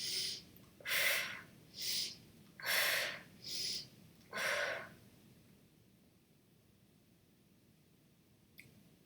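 Five slow, deliberate breaths, each a soft airy rush lasting about a second, during a Pilates mat exercise, close and fairly quiet, followed by near silence.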